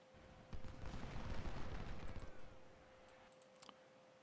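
Scattered gunfire from Ultimate General Civil War, a game of Civil War battles at Saunders Farm, with a dense burst of crackling shots and rumble early on, then a few isolated sharp reports fading out.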